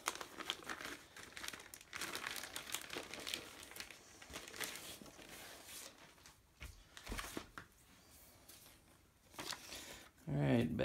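Crinkling and rustling as hands rummage through a plastic bag of components from a Tomb of Annihilation board game box, close and irregular, with bursts of crumpling, brief pauses and a louder rustle at the end.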